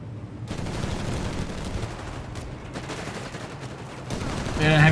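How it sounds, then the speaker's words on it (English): Sustained heavy gunfire and explosions from Company of Heroes 3, a dense continuous battle din with bursts throughout and a louder swell at the end, with a voice talking faintly underneath. "Heavy fire there again."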